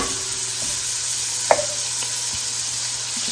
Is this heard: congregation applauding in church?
no